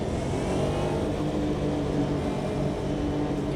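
Porsche 911 GT1 race car engine in the Automobilista 2 sim at Daytona, a steady loud mid-range drone with layered harmonics held at sustained revs throughout, no voices.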